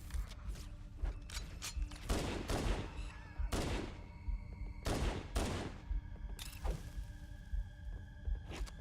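Rapid bursts of Covenant plasma pistol fire in Halo: Combat Evolved Anniversary, with several loud clustered volleys over a busy background of other game sounds and battle noise.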